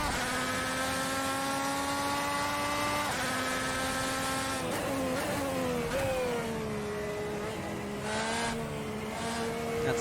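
An IndyCar engine in the Assetto Corsa sim races around Autodrom Most, a loud high-pitched whine that holds steady, then drops and climbs through shifts and corners, with brief tire squeal.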